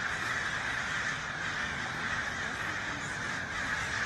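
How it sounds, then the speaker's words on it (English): Crows cawing in a noisy outdoor spot, harsh calls blended into a steady wash of background noise, fairly distant, no talk. "these crows are starting to announce his presence"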